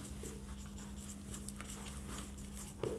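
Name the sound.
writing by hand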